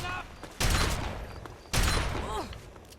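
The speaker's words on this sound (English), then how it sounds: "This is an unwieldy shotgun." An unwieldy shotgun fires in Fallout 3, two heavy booming blasts about a second apart, each with a long noisy tail, while a voice talks faintly underneath.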